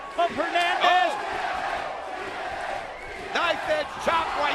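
Wrestling arena crowd at a TNA event cheering and shouting in swelling roars, with loud yelling voices rising over the steady hall noise.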